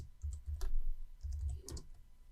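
Computer keyboard shortcuts being typed in a quiet room: a few separate clusters of crisp key clicks and taps, close and fairly soft, with brief pauses between presses.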